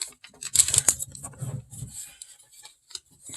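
Sheet of origami paper being creased and folded while shaping a chair, with crisp crinkles and rustles in a cluster near the start, then quieter handling noises, close up and alone.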